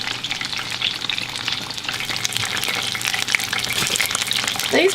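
Fish sizzles steadily in hot oil in a pan while Southern-style fried fish is cooked, a dense continuous crackle with brief louder spits near the end and no talking.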